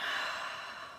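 A short breathy exhale out through the mouth during a gentle yoga practice, a close, soft sigh lasting about a second and tapering slightly.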